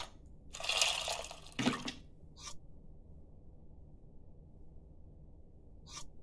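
Tamarind being mixed into warm water in the cooking game Venba: a splashy liquid swish, then a shorter slosh, followed by two faint, brief drips spaced apart.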